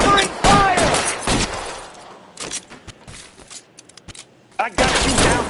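Bursts of gunfire from the game L.A. Noire, loud volleys of rapid shots that crack sharply, then scattered single shots during a lull before heavy firing resumes; shouted voices mix in.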